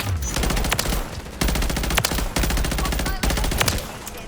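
Rapid automatic fire from the F2000 rifle in Call of Duty: Modern Warfare 3, three long sustained bursts separated by brief pauses, each a dense rattle of punchy shots with no attachments fitted.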